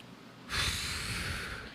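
A voice imitating heavy breathing, one long, forceful, hissing exhale that starts abruptly and holds steady, close and loud.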